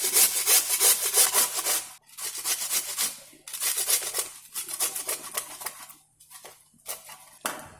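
Potatoes and bottle gourd being grated for farali handvo, rhythmic rasping strokes in bursts separated by short pauses, close and clear.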